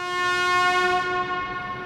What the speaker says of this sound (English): That's the sound of the final warning horn to clear the hangar.